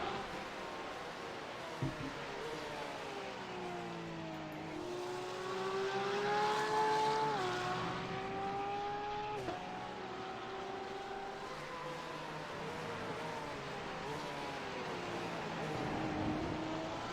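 GT3 race cars lapping the Algarve circuit during a season-opener race, engines droning steadily with rising and falling pitch as they pass and shift, a continuous mid-distance roar throughout.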